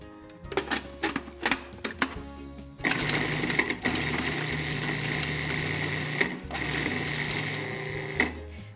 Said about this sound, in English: Now I'm going to pulse the herbs and the garlic together.